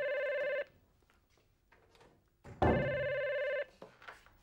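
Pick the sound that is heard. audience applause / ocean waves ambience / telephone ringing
telephone ringing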